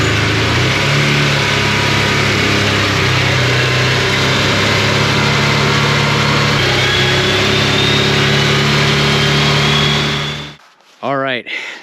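A 2013 Arctic Cat Prowler XTZ 1000 utility vehicle drives in high gear, its engine droning loud and close for several seconds with steady, slightly wavering revs before it cuts off abruptly near the end.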